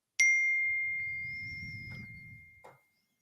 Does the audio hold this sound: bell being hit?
yes